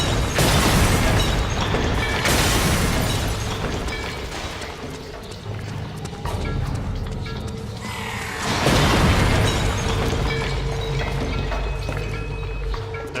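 Heavy booming blasts from Stinger missiles in Metal Gear Solid 4, with a loud impact near the start and another around the middle, each followed by a long rumbling mechanical din.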